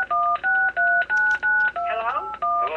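A telephone keypad sounds a rapid series of about seven evenly spaced dialing tones, loud and close, followed by a brief burst of garbled line noise and a final tone.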